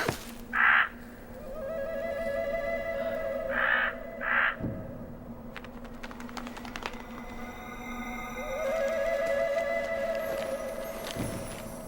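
A raven calling, with a few hoarse, resonant caws in short bursts at moderate distance, followed by a drawn-out call over steady background ambience.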